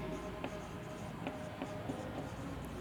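Chalk or marker writing a chemical name on a classroom board, with a string of light taps and short strokes spaced irregularly over a steady room hum, no talking.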